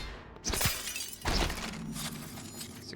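Window glass shatters twice in the video game Prey, each time a sharp, close burst of breaking glass, the first near the start and the second a moment later, with tinkling fragments trailing off afterward.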